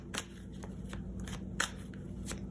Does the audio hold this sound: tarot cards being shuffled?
yes